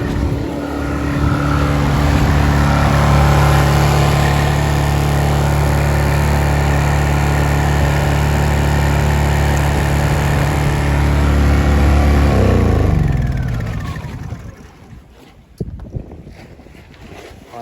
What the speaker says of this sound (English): that generator's been running for, I don't know, maybe an hour. So I'm just going to shut it down now